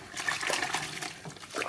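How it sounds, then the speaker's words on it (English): A bar of soap held in the hand and swished through water against a crocheted bag being felted, a close, continuous splashing and sloshing with uneven surges. "I usually hold the soap in my hand and swish it in the water and up against the item"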